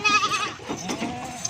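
Goats bleating while being loaded into cargo for transport, a nanny with two kids among them, a close wavering bleat followed by fainter calls amid handling noise.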